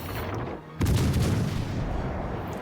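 Naval guns fire in the World of Warships Legends video game, a sudden heavy boom that stays loud with a rumbling tail, over steady background game noise.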